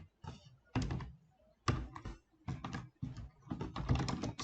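Computer keyboard typing while writing data-structure code for a tree, close and clear, in quick clustered bursts of key clacks with short pauses between them.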